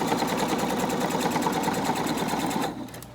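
A sewing machine stitches steadily and loudly through fabric while sewing straight over pins during a cinch sack build, its rapid mechanical hum running continuously before easing off near the end.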